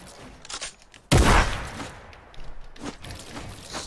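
A single loud gunshot in a video game bursts out abruptly and decays over about half a second, with quieter thuds and faint movement noises before and after.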